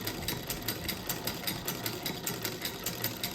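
An old sewing machine, more than sixty years in use, stitches a quilt with a fast, even mechanical clatter of regular needle strokes, close and moderate in level, with no talk.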